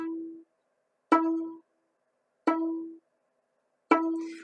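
Three plucks on a D string stopped with the first finger, evenly spaced and close, each ringing briefly and fading quickly with a slightly damped tone.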